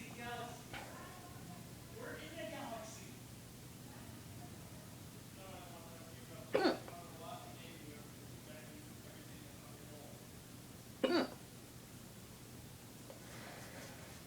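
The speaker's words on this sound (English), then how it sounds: "it kind of sucks in when I hiccup" A person's hiccups, two short sharp catches spaced several seconds apart, close and quiet against faint background hiss, with soft talk early on.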